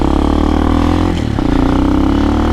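Amazon X-Pro motorbike (KPM 200 or Hawk 250 DLX) engine warming up at a bumpy driveway, a steady close idle drone with a brief dip and rattle midway before settling back to an even rumble.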